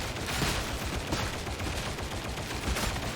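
The Mark VII rapid-fire gun in the video game Darktide, firing in a dense, continuous burst of sharp shots at a steady fast rate, loud and close.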